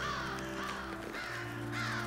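Crows caw amid the ambient soundscape of The Witcher 3, a short burst of harsh bird calls layered over a steady game background.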